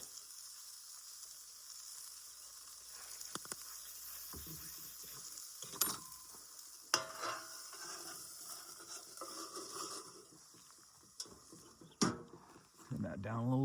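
Garlic sizzling in butter in a pan at a backwoods camp, a steady frying hiss with occasional clinks and stirring, while a person talks over it.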